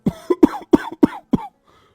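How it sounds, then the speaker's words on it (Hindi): An old man lying on a cot coughs in a rapid series of five or six close, loud, rough coughs, then falls quiet. "तभी खटिये पर से बूढ़ा रामा खांसते हुए बोला"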